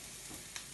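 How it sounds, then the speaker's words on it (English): Onions browning in a frying pan, giving a soft, steady sizzle with one brief brighter crackle near the end, fairly quiet and without speech. "after 3 or 4 minutes, your onions are browning nicely"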